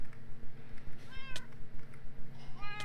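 A cat in Minecraft meows twice, short and clear, over a steady rhythmic pulsing game background with a low hum running throughout.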